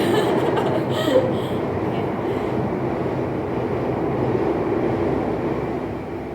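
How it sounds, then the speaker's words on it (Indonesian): A train rolls past on tracks right beside a house, a loud steady rumble and rattle of rail cars filling the whole stretch without letting up. "Bentar ya Mbak, keretanya lewat."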